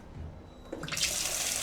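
A hotel shower being turned on to test water pressure, a brief quiet lead-in and then a sudden strong hiss of spraying water, close and steady.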